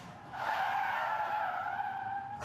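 A car brakes hard with tires skidding and squealing in a sustained, fairly loud screech lasting about two seconds, heard alone without talk.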